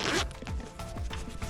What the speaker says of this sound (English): And we just need to zip this back